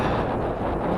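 Heavy wind batters the microphone during a bike ride, a loud, dense, unbroken low roar that fills the whole moment.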